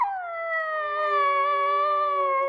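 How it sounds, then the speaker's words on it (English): A corgi pup howling, one long sustained wavering howl that slowly drops in pitch, clear and close with no voices, heard as playback of a recording. "this is a video of her learning to howl when she was a pup"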